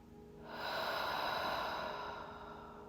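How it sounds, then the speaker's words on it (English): One long exhale, close and fairly loud, a breathy hiss that builds quickly and slowly tapers off over two seconds, heard on its own with no talking. "And exhale."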